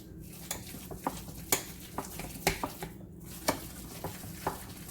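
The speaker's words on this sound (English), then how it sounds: "Mixing all the cheeses together" Mexican four cheese blend is stirred together in a bowl, giving a run of soft, irregular scraping and clinking knocks, about a dozen close, light taps over a quiet bed of rustle.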